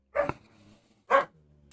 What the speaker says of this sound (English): Now the dogs are barking.